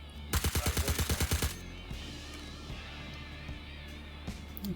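Suppressed gunfire in the video game Star Citizen comes as a rapid burst of about ten muffled, evenly spaced shots, followed by a low ambient hum.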